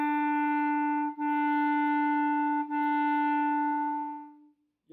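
A reed instrument holds the note E, tongued three times into one sustained, steady, bright tone broken by two quick articulations, fairly soft, then fades out alone.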